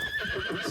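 A horse whinnies and snorts in the video game Bannerlord, a short, close neigh with faint hoof clatter beneath it.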